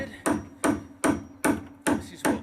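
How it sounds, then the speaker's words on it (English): Six evenly spaced hammer blows using a cross-handed reverse swing, each a sharp ringing strike with a short decay, close and loud, about every 0.4 seconds. "This is the cross-handed reverse swing hammer technique"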